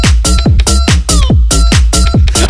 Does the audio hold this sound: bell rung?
no